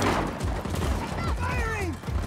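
Gunfire in Just Cause 4: rapid, close shots crack out in a continuous burst, with whistling ricochet-like sweeps and voices heard over the shooting.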